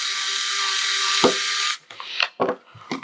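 An electric precision screwdriver whirs steadily at torque level 5 for under two seconds, then stops, followed by a few small clicks and handling knocks nearby.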